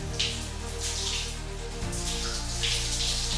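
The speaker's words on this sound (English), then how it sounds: "now we're taking a shower" Cold shower water runs steadily in a bathroom, a close, continuous hiss with a low hum beneath that shifts partway through.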